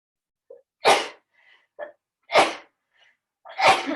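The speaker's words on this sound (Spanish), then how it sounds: "Perdón que voy a estornudar" A single person sneezes three times in quick succession at close range, each burst sharp and loud with brief quiet gaps and small breaths in between.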